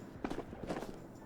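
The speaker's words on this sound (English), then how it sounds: "I think I only heard one set of footsteps" Footsteps in the shooter game Ghosts of Tabor, a short cluster of soft, quick thuds in two bursts, faint and somewhat distant against a low background hum.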